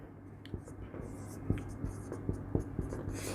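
Chalk or marker strokes on a board during a history lesson, a series of short scratchy taps roughly every half second, close and moderately loud over a low steady room hum, with faint whispery breath.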